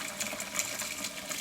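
Tap water running steadily into a kitchen sink with a little degreaser added for bacon grease, a continuous broadband rush with faint splashy flickers, fairly quiet and alone.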